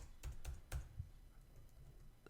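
A few soft keystrokes on a computer keyboard while code is deleted, four quick taps in the first second, then near silence and one last tap at the end.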